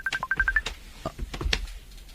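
A cellphone sounds a rapid run of short electronic beeps for an incoming video call, followed by a few softer clicks and handling taps, close and fairly clear.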